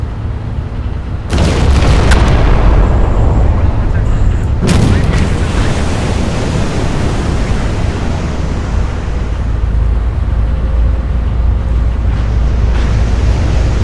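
Battleship guns fire in Battleship Command, two heavy booming salvos a few seconds apart, each followed by a long rumbling roar that slowly fades.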